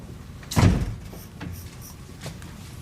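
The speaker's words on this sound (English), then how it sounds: "close the door" A door closing with one solid thud close by, followed by quieter shuffling and faint knocks as the room settles.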